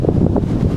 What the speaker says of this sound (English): Now you're going to hear some wind.